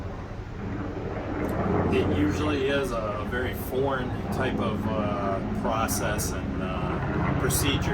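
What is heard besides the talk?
tourist helicopter flying in background in Orlando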